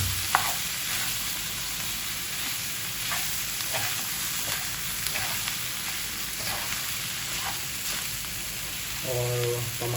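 Pork sizzles and crackles as it fries in its own fat for dinuguan, a steady dense hiss with scattered pops, and a brief clatter near the end.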